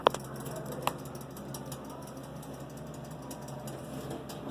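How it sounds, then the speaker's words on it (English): An Otis Lexan hydraulic elevator at Macy's in the Lehigh Valley Mall, Whitehall, running with a steady low mechanical hum and faint rattling, opening with a couple of sharp clicks. "this is the elevator here at Macy's, Lehigh Valley Mall, Whitehall"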